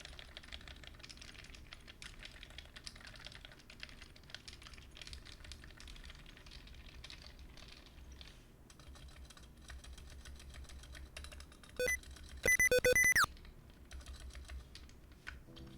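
Steady, fast typing on a Neverest 60 mechanical keyboard fitted with KLC 35G domes, a dense stream of soft muted clacks with a brief electronic tone near the end, no voices.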